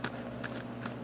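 Tarot cards shuffled close by, three short papery riffles in an even rhythm over a low steady hum, no voices.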